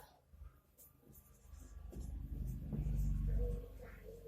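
Chalk or marker writing on a board during a chemistry lesson on critical temperature, a scratchy stroking sound that builds over a low rumble with no talk.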